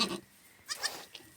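A goat that has just given birth bleats a few short, wavering cries in a Himalayan village in Uttarakhand, close and moderately loud, separated by brief pauses.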